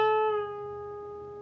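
A single electric guitar note bent at the 14th fret and released back down, a clean clear tone that rings and slowly decays alone.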